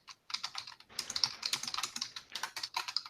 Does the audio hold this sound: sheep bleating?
no